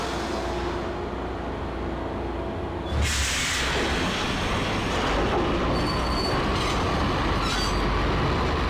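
A train running in the Max Payne video game, starting as a steady low rumble, then swelling into a loud rushing roar with metallic screeches and squeals, close and continuous, no voices.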